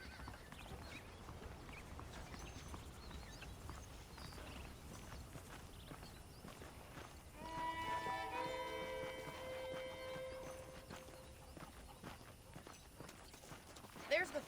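Horse hooves clip-clop at a steady walk in the Western video game Red Dead Redemption, moderately loud under a voice and ambient background, with a brief musical tone rising midway.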